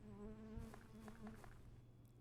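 Bees buzz in a video game with a faint, steady droning hum under soft chiming game sounds, quiet and brief.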